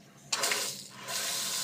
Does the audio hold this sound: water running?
yes